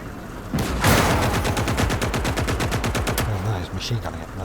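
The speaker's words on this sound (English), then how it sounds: "Oh no, he's machine gunning it." Rapid machine gun fire in the World War II strategy game Gates of Hell, a loud, close burst of evenly spaced shots lasting a few seconds, followed by a few scattered hits.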